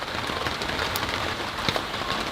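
Hard rain pours down outdoors on a warm day, a dense steady hiss of drops on branches and surfaces, with occasional louder splats standing out, close and continuous without any voices.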